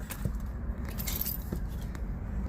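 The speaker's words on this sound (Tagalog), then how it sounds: "Ayun na yung susi." A bunch of car keys jangles and clinks in short, close metallic bursts over a low rumbling background, with no talking.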